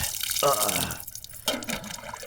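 Hot water being poured, a short splashing, gurgling pour with dripping that stops briefly and then resumes, close and moderately loud.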